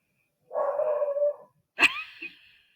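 Murphy, a dog, lets out a deep, drawn-out bark and then a sharper, higher yelp with a short whimpering tail, both close and clear against near silence.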